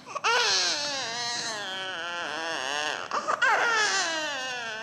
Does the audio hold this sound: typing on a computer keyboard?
no